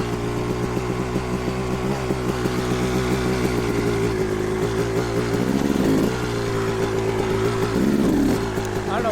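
A Kawasaki KX dirt bike engine stuck in second gear drones steadily and loudly up close, with a buzzy rasp and two brief revving swells partway through.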